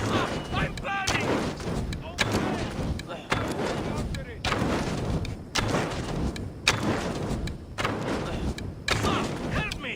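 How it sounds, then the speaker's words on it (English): Gunfire and heavy impacts in an Assassin's Creed Odyssey battle, a steady stream of loud thumping blasts and booms repeating roughly every second over the full stretch, with shouting voices mixed in. "They're shooting at us!"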